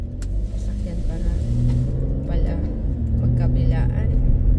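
Road traffic rumbles steadily along an early-morning drive through Frankston, with cars passing in both directions near speed and red light cameras, a continuous low engine and tyre drone under talking.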